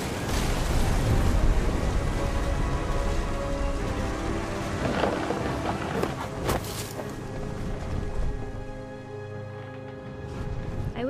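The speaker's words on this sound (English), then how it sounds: "The thunder sounded much too close and full of angry power." Heavy rain pours steadily in a thunderstorm in What Remains of Edith Finch, with deep rolling thunder swelling near the start and a sharper crack midway, dense and close throughout.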